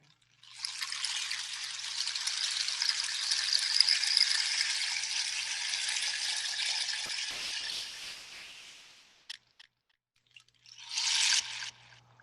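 A llamador de agua, the indigenous rain stick with lentils or pebbles inside, pours out one long, loud shushing cascade that fades away after several seconds. A couple of short clicks follow, then a second brief rushing burst.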